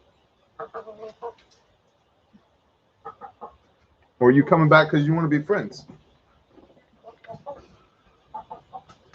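A chicken on a porch clucks in short bursts, close by, around a spell of someone talking, with more clucks trailing off afterward.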